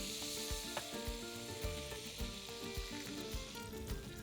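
Rockfish sizzling and frying in a pan with lime juice, a soft, steady crackle close by, punctuated by irregular small pops and scraping stir sounds.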